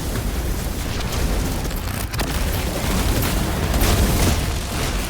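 A Vex mine detonates in the video game Destiny 2, a loud, dense roar of booming blast noise that rumbles on unbroken for several seconds, with no voices over it.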